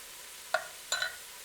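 A spoon scrapes along the inside edge of a mushroom cap above a cutting board, giving a few short, soft scratches over quiet background hiss.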